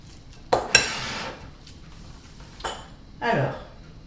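A spoon stirs liquid cream into salmon rillettes in a bowl, giving a few sharp clinks against the dish, then softer scraping strokes, close up with quiet pauses between them.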